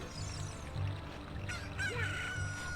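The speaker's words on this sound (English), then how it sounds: "Chicken!" A chicken in The Legend of Zelda: Ocarina of Time, at Lon Lon Ranch, gives a few short clucking calls over a quiet, steady low background loop, faint and a little distant.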